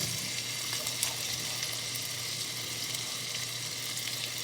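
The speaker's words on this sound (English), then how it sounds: "You just want to fry these up for, I don't know, 5 or 6 minutes till they're golden brown" Potatoes fry in a pan for potato soup, a steady dense sizzle and crackle that holds close and even throughout, with no talking.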